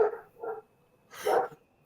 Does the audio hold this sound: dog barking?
yes